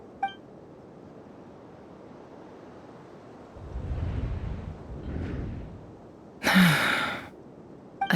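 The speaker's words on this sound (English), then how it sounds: "I heard Yehoda gasp" A Genshin Impact game character gives a sharp, breathy gasp after quiet wind-like ambience and soft beeps, with no speech.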